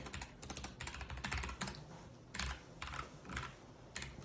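Bursts of typing on a computer keyboard while sign-up form fields are filled in, clusters of crisp, close key clicks separated by short pauses.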